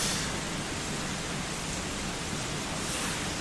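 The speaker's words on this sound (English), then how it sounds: "Like with the rain in the background." Dense, steady hiss of rain falling outside, an unbroken wash of noise at even loudness throughout, with no voices.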